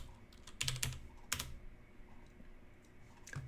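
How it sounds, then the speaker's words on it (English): Typing on a computer keyboard: a few clustered keystroke clicks, then a louder single tap and a brief final keystroke, close and clear with no talking. "So I'm going to type workbench again."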